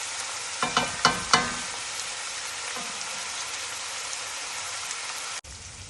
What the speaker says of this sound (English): So these onions are becoming translucent. They're cooking nicely on the stove.